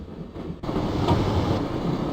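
A train rumbles in the video game Broken Sword: The Shadow of the Templars, a low steady roar that swells suddenly after a brief quieter opening and then holds loud and close, with no speech.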